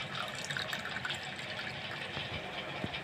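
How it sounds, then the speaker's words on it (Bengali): Water pouring steadily into mango pana for homemade ice cream, a continuous close splashing fill with faint dripping. "জলটা দিয়ে দেব"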